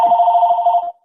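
A telephone rings once nearby, a loud warbling electronic tone lasting just under a second before cutting off.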